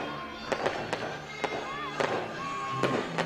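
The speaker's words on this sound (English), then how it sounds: "And now the fireworks show will start here at Melbourne Ballpark." Fireworks burst after a baseball game at Melbourne Ballpark, a string of sharp booms and crackles spaced through the moment, with distant crowd noise and some background murmur beneath.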